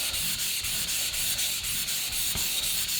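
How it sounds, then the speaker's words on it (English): Steel chisel back rubbed flat across a sharpening stone under steady pressure, making a continuous close gritty scraping with a regular back-and-forth rhythm. "Make sure you're applying enough pressure to keep this back of this blade flat on your stone."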